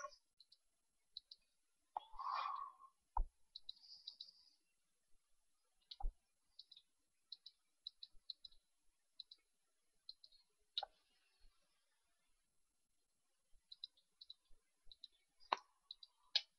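Sparse, sharp mouse clicks sound close and quiet, some in quick pairs and others alone, during Minecraft Skyblock play in a near-silent room, with a single soft breath-like sound near the start.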